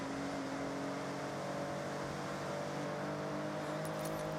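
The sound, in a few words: Ferrari F50 racing in the video game Forza Horizon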